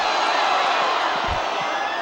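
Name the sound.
crowd oohing and ahhing at girls' soccer game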